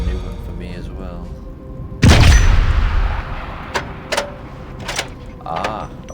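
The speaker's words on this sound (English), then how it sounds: "they would have died by lantern explosion" A lantern explodes with a sudden loud boom and rumbling blast in the Sniper Elite: Resistance video game, followed by scattered debris clatters and thuds as it fades.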